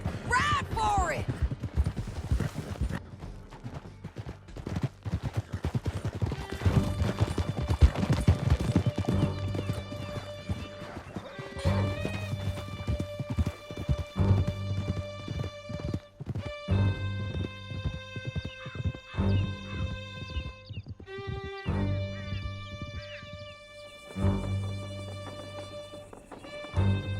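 Horses gallop in Red Dead Redemption 2, with rapid clip-clop hoofbeats, occasional whinnies and bursts of gunfire over a musical score, with voices talking at times.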